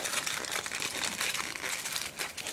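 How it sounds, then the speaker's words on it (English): Tin foil crinkled and folded around a section of hair during food-coloring dip-dyeing, a close, continuous crackling rustle that stays dense and fairly loud throughout. "She's just gonna wrap this in the tin foil."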